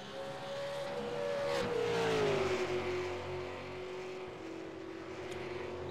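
V8 supercar engines in a racing video game at Le Mans, a steady loud drone that climbs in pitch, then drops as the cars brake toward a chicane, with a passing whoosh near the middle and no voices.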